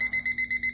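A timer alarm beeps four times in quick, even succession, shrill and electronic, loud and close with no talking.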